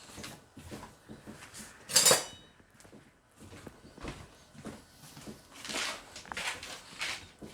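Kitchen cutlery and a knife clatter as they are fetched during pie decorating, with one bright metallic clink standing out among softer handling noises and a faint voice nearby.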